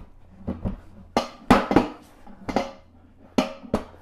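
A Flybird Pro adjustable weight bench is flipped over, giving a series of sharp knocks and clattering thumps close by, several loud bangs spread unevenly over a few seconds with no talking.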